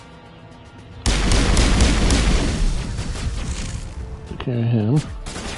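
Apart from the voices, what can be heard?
gunfire in video game Mass Effect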